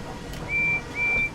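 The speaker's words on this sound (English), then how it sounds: "Oh, they whistle back at you." Video game characters whistle back: two short, clear, steady whistles in quick succession, fairly faint over a low background hum.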